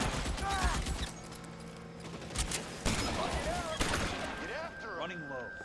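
Gunfire in an L.A. Noire shootout, with rapid bursts of shots and mechanical clatter mixed under people talking, some volleys sharp and close, others scattered.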